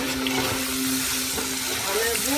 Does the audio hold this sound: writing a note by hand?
no